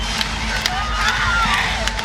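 Dense, loud crowd roar fills an arena at a 2022 NCAA volleyball regional final between Louisville and Oregon, a steady wash of cheering and babble with a voice talking over it.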